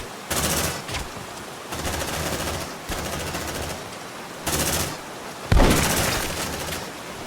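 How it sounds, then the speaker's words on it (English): Shotgun fire in Aliens: Dark Descent, several loud bursts of gunfire in quick separated volleys, each with a sharp onset and noisy tail, the last one heaviest and booming. "shotgun pretty effective"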